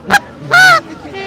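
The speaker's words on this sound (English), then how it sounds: "That is a goose call." A goose call is blown during a live street protest in Ottawa: two sharp, nasal honks close to the mic, the second longer, followed by a quieter trailing note.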